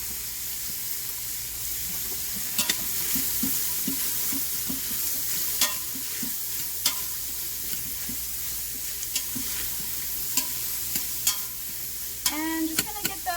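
Chopped onions, peppers and leeks sizzling in a preheated InstaPot, a steady close frying hiss broken by occasional stirring scrapes and clinks, no talking.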